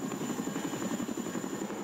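A Chinook military helicopter lifts off, its rotors thumping in a rapid steady beat over continuous engine whine, fairly distant and alone.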